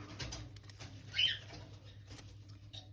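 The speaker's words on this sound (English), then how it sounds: "Mabel's morning flap." Mabel, a pet bird, flaps her wings in the morning: one short, soft burst of flutter in a quiet room, with faint low background hum and no talking.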